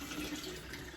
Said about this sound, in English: I'm going to pour it in to my gallon pitcher with the SCOBY